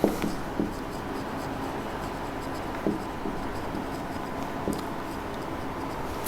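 A pen scratches steadily across paper as an accounting journal entry is written by hand, close and continuous, with a few faint taps.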